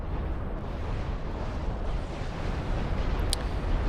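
A bombing run in a video game rumbles as a continuous, loud, broadband explosive roar that fills the whole stretch, with a faint sharp click near the end.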